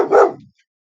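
A single sharp bark from a 19-month-old dog, loud and close, cutting off quickly into silence.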